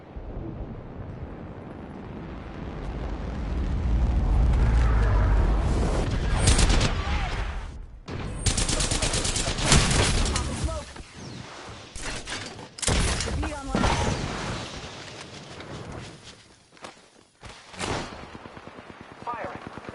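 Gunfire bursts in Apex Legends, with repeated sharp shots and rapid volleys set against a rumbling game soundscape, loud and close, with spoken game lines over them.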